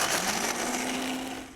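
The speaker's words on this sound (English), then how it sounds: "we're going to put on the lid to our blender and just give it a good blend" Blender motor whirring steadily as it purees a frozen fruit smoothie, a loud continuous drone with a rising steady pitch that holds throughout.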